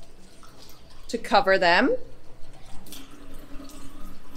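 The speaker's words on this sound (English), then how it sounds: "Okay, so to my oats, I add just enough water" Tap water runs into a pot of oats in a home kitchen, a brief watery splash under a person talking.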